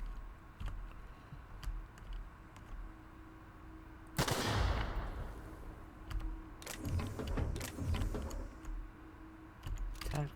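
A tactical shotgun fires in the video game The Outer Worlds: one loud blast with a decaying tail, followed by a flurry of clicky weapon handling and further impacts.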